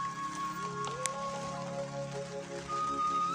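Steady rain falls outdoors in wet weather, a dense continuous patter on surfaces with a faint tonal hum underneath and one brief sharp tick, no talk.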